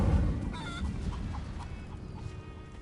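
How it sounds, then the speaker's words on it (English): A chicken clucks in short soft bursts in Hogwarts Legacy, heard over low, rumbling in-game ambience. "That's a chicken."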